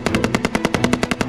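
Rapid machine-gun fire from World War I trench combat at the Battle of the Somme: about a dozen evenly spaced, loud, close shots in one continuous burst, with no voices.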